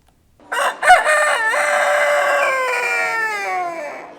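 A rooster at a poultry and pigeon show crows loudly and close, one long drawn-out call that rises and then trails down, with no other sound behind it.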